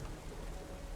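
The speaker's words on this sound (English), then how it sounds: "This rain has got to finish." Steady rainfall in the video game Terra Nil, a dense even hiss of rain with a low rumbling undertone, faint and continuous with no voices.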